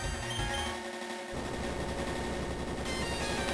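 Earthquake move effect from the Touhou Puppet Play video game: a dense, rumbling burst of crackling low-end noise that sweeps in and keeps rolling steadily to the end, loud and without speech.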